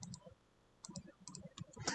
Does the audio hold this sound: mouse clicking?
yes